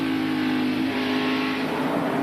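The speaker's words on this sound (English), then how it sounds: "On the accelerator as hard as possible. Now letting off, feathering it down the straightaway into the turn, brake hard." A NASCAR stock car in the 1992 Food City 500 roars at full throttle, then the engine note eases as it slows for a turn, a loud, close, steady drone throughout.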